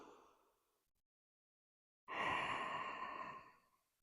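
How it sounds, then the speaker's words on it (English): Deep breath during a yoga cool-down: a soft exhale fading out, a second of silence, then a long audible sigh-like breath out, close and alone. "Let's take 2 final breaths together."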